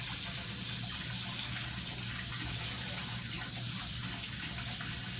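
Tap water runs steadily into a sink as metal kitchen tongs are rinsed under the faucet before cooking noodles, a constant close gushing with no pause or talk throughout.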